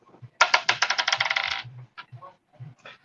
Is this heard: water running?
no